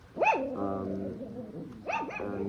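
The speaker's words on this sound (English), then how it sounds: "the dogs are about to start barking like crazy" Dogs bark nearby, a couple of loud rising yelps at the start and again near the end, with whining and howling tones between them.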